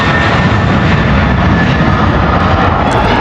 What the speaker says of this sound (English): there's probably a plane about to take off right now